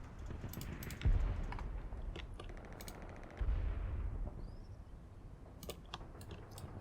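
Wartime gunfire in the Combat Mission: Battle for Normandy video game, with scattered sharp shots and two heavier low thumps, a little distant, with no talking.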